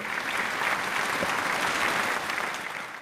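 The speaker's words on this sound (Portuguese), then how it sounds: "palmas pro Guerreiro, velho" A burst of clapping from a small crowd, dense and continuous for a few seconds, close by, with no talking over it.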